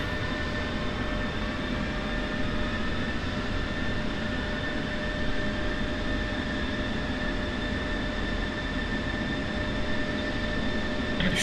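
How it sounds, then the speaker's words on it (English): F-16 Viper engine spooling up on the jet fuel starter in the DCS flight simulator: a steady, loud turbine whine with constant high tones over a broad roaring rumble, unbroken throughout. "we are using the JFS to actually spool up the engine"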